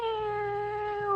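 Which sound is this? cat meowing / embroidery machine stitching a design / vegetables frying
cat meowing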